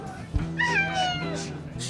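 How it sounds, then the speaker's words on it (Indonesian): A cat gives a couple of short, clear meows close by, rising and falling in pitch, with a faint voice in the background. "Di, kucing siapa nih?"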